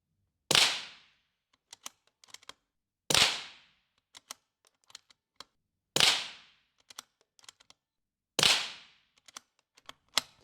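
Four sharp .22 rimfire rifle shots fired at a steady spacing of roughly two to three seconds, each a loud crack with a brief decaying tail, followed by faint clicks and small mechanical handling noises between shots.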